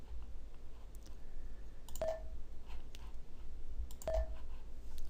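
Mouse clicks in software, two sharp, quiet single clicks about two seconds apart over a faint steady hum.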